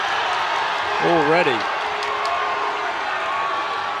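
Crowd at a varsity boxing match cheering and roaring in a big hall, a loud continuous wash of voices with a brief whoop rising above it, while a commentator talks over the top.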